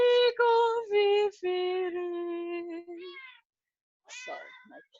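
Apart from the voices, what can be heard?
pet cat meowing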